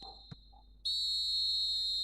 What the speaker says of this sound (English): And the half-time whistle goes.